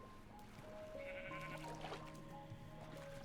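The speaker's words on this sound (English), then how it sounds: "It's literally a Jeb sheep." Sheep bleating in Minecraft, one wavering, mid-pitched bleat rising out of the steady game ambience, fairly close and clear with no voice over it.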